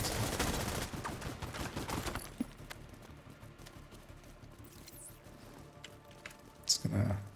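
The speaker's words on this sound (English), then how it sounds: "I'm just gonna blind fire, also just to not block my allies" Blind gunfire in a video game shooter sounds as a rapid burst of automatic shots at the start, followed by quieter scattered bangs and clicks, with a couple of sharp impacts near the end.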